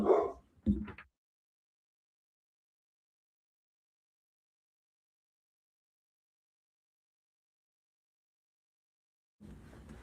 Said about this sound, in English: Dog was barking.